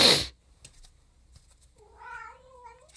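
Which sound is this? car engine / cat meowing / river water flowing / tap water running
cat meowing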